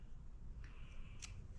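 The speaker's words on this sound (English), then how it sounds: "I'm going to take these scissors and make sure I clip right to that corner right there" Scissors snip through the corner of a quilted Valentine's table runner, a single quick crisp cut standing out against a steady low room hum with no talking.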